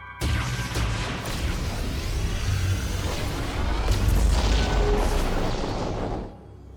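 A psychic power bomb detonates in Metroid Prime 4: Beyond, a loud sustained rumbling blast wave that swells for about six seconds with crackling debris on top, then cuts off sharply.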